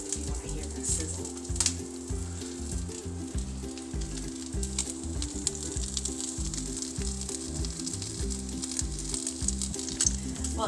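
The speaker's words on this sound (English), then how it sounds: "if you want to hear the sizzle" Steady, loud sizzling of hot wings frying in a hot pan, continuous crackle and hiss throughout with occasional stirring.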